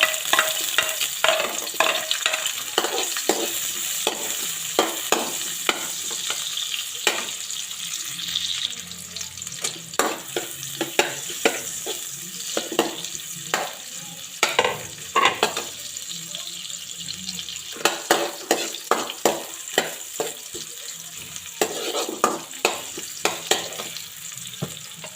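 Onion sautéing in a pan for a Bicolano shellfish dish, a steady broadband sizzle with frequent sharp clicks and scrapes of a utensil stirring against the pan, close and fairly loud throughout.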